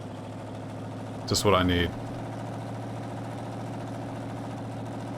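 Tractor engine idling steadily in Farming Simulator 19 while hauling a log fork over a rough road, a constant low drone throughout with a brief louder burst of talk near the start.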